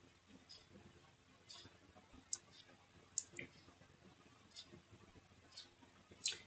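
A computer mouse gives a few faint, sharp clicks, irregularly spaced and separated by quiet pauses.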